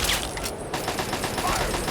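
Rapid, sustained gunfire from a battle in Fallout 3's Operation: Anchorage, a dense crackling stream of shots packed tightly together and fairly loud, with a brief lull midway before the firing resumes.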